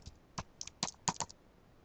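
Short bursts of clicks on a computer keyboard as a website address is entered, a handful of crisp close keystrokes clustered in quick groups with quiet gaps between.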